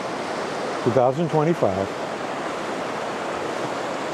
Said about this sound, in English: beside a beautiful running creek. I'm going to say raging river, but it's not. It's a raging creek, I guess.